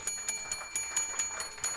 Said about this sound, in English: let's give him the bell